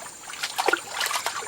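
Water splashes and trickles in a still forest pool in the Amazon as a liana is washed and swished repeatedly, making soft, close sloshing that rises and falls.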